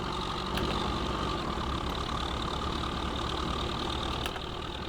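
A tractor engine in Farming Simulator 15 runs at a steady idle with a low, continuous drone that stays even in level, with no talk over it.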